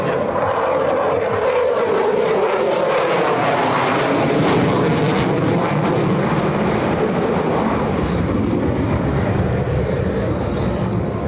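An F/A-18F Super Hornet roars past at an air show, a loud, continuous jet rush that swells and shifts in pitch as it passes, filling the whole stretch.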